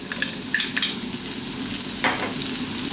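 Garlic and celery sizzle in hot olive oil, giving a loud, steady crackling fry with bright spitting pops scattered across it, close up and with no talk.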